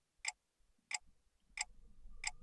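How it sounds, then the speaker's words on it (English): Four loud, evenly spaced clock ticks in a video game, bright and sharp, with a low rumbling ambience building underneath. "God, that feckin' clock."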